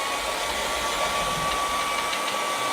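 Hair dryer blowing on wet paint of a boat painting, a steady, loud whirring drone with a thin whine that holds constant and close from start to end.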